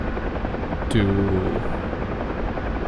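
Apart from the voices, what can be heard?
UH-1 Huey helicopter flying at high speed in the video game DCS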